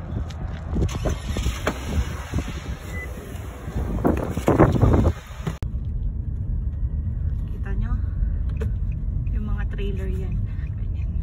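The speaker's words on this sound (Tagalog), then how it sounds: "Trailer yan." A trailer truck passes on the road near Kindersley Mall, heard as a loud rumbling roar with wind buffeting the mic. The roar swells and then cuts off abruptly, leaving a lower road rumble while people talk.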